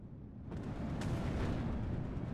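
Bofors anti-aircraft guns firing in the Steel Division 2 war game, a rumbling burst of heavy gunfire that swells in and holds as a dense continuous roar, with no voices.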